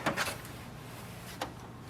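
Paper tray door of an HP Smart Tank 7300-series printer being pushed shut: a couple of quick plastic clunks near the start and another soft knock a moment later, close and fairly loud.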